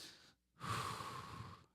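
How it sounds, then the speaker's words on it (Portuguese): Slow, deep breathing during a guided calming exercise for anxiety at a church sermon: a short quiet pause, then one long, steady exhale or inhale of airy breath, close and clear. "exercício de respiração para aqueles que têm ansiedade"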